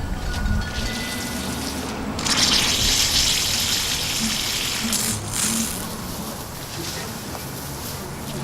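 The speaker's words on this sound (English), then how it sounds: "I'm going to make sure the zone 1 is on for a minute, and it's going to kick on and release the water" A lawn sprinkler zone switches on outdoors and sprays water, a broad steady hissing gush that swells and dips over several seconds, with faint background noise.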